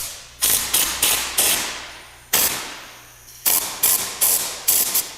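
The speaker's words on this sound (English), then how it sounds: "Fire up the air compressor, build up pressure, and adjust it between the 60 and 90 pounds" Repeated short, sharp bursts of compressed air, regulated between 60 and 90 psi, blasting through a Tornador Mini air-powered interior cleaning tool, in two clusters of quick pulses, each decaying into a fading hiss, loud and close with no talk.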